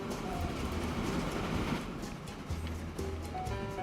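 A train in Transport Fever rumbles steadily as it arrives, with a dense rolling noise and a low hum that settles into a sustained tone near the end, no speech over it.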